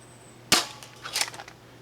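Flip Flop Foam Rush blaster firing a single foam dart at close range at a dueling tree: one sharp, loud pop, then a softer clatter of the dart striking and the plates flipping.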